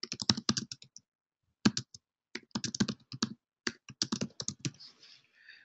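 Bursts of rapid key clicks from typing on a computer keyboard, close and fairly quiet, coming in several spaced runs with short pauses between them and no voices.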